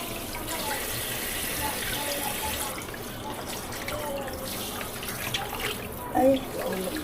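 Water runs steadily from a tap while cassava roots are washed, a constant broadband splashing that holds for the whole stretch, with a brief louder splash near the end and faint voices in the background.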